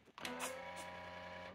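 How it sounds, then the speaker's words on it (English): Epson WorkForce Pro WF-M5799 printer initializing a new ink pack, a soft click followed by a steady internal mechanical whir and hum, close and quiet, with no talking. "the printer will initialize it for you"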